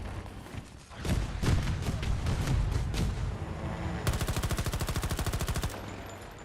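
Rapid bursts of gunfire from a player's weapon in a video game, first loose irregular shots, then a fast steady machine-gun rattle of about twenty rounds, loud and close, with no talking.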